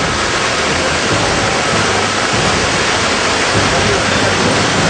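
Flood water surging over a road in Chittorgarh district, Rajasthan, with churning waves below: a loud, constant broadband rush and roar that fills the whole clip without a break.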